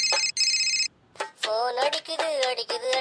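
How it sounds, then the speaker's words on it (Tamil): A phone ringtone plays loud and electronic in two repeated bursts, then stops and gives way to talk in a Tamil comedy short. "ஃபோன் அடிக்குது."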